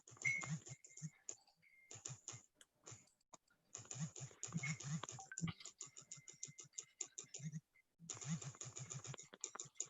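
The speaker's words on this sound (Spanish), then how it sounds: "Está como una máquina de escribir." Rapid typing patters along steadily like an old typewriter, a dense run of small clicks with a few brief pauses, quiet and close, with faint voices and scattered low sounds underneath.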